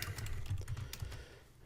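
Soft, quick typing on a computer keyboard, a steady patter of close key clicks that fades slightly toward the end, with no talk.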